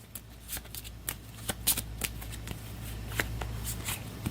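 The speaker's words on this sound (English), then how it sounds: "Then we'll shuffle up the turn order deck once again." A deck of turn order cards for the Astro Knights board game is shuffled by hand, a rapid run of crisp riffling clicks and flutters, close and fairly quiet.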